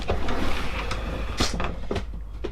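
A kitchen drawer in a campervan slides open with a short rumbling scrape and a few knocks and rattles of the contents, close and fairly loud, no talking.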